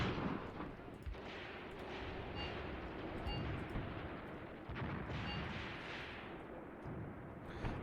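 Battlefield gunfire and artillery in a WWII tactics game, sustained rumbling barrage with repeated sharp shot impacts over about eight seconds, continuous and dense.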